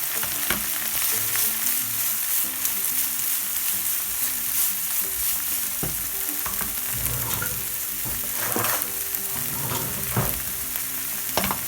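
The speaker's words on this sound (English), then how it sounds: "So while my onions and peppers are sauteing" Frozen peppers and onions sauté in a pan with a loud, steady sizzle and crackle, broken by occasional scraping and clinks of stirring, and no one talks.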